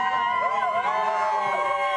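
Fans lining a mountain-top stage finish of a women's road cycling race cheer loudly and continuously, with whoops and high shouting voices layered into a dense crowd roar close by.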